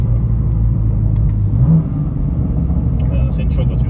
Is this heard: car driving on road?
yes